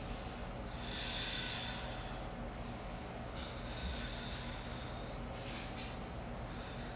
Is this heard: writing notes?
no